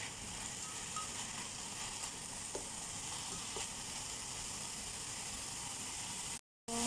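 Garlic chives, carrots and mushrooms stir-fry in a pan, giving a steady bright sizzle with a few faint clinks of stirring throughout, briefly cut off near the end.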